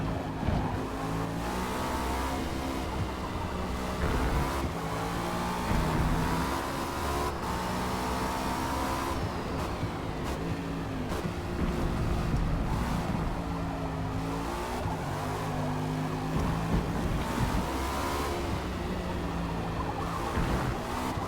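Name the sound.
Cadillac V-Series.R racing at Spa in video game Forza Motorsport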